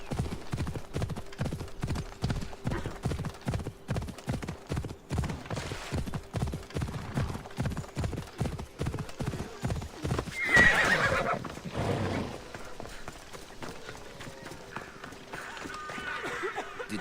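A galloping horse in the Assassin's Creed Odyssey video game, with rapid rhythmic hoofbeats up close, then a loud whinny, followed by quieter game ambience.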